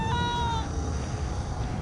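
A cat in the video game American McGee's Alice lets out a short, tonal meow near the start, heard over a dense, steady game backdrop.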